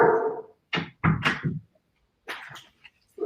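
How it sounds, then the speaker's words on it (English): Three German Shepherds barking in short bursts nearby, a few loud yaps with brief pauses between them, heard alone without talk. "3 German Shepherds barking"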